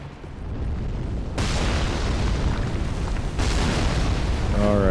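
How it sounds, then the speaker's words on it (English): A giant 3-bolt ballista firing in Dark Souls 3 across a lake: two heavy, loud booming discharges about two seconds apart, each followed by a sustained rumbling roar, with a faint warbling tone at the very end. "Okay, so someone is manipulating a giant 3-bolt ballista."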